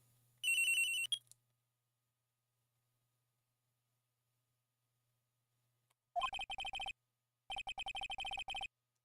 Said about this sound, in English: Around 10:30, I received a call from my cell phone.